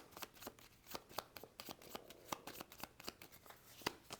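A deck of game cards for a solo Star Trek board game is shuffled in a steady run of quick, crisp riffling snaps, fairly close and alone, with no talk.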